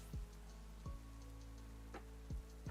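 Steady rain patters on a surface in a Pokémon video game battle, soft and continuous, broken by a few brief tick-like clicks, with no talking.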